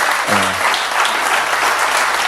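Church congregation applauding, a dense steady wash of clapping from a large crowd that carries on throughout, with a brief low voice near the start.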